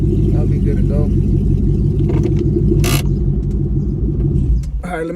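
Nitrous Ford Mustang GT S550 running on E85, engine idling with a loud, steady low rumble up close, a brief burst of speech partway through.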